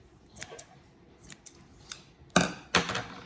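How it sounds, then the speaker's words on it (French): Several crisp scissor snips cut through crochet yarn while a basket is being finished, with a few light clicks early on and two louder, closer cuts near the end. "je vais couper mon fil"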